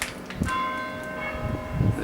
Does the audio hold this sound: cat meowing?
no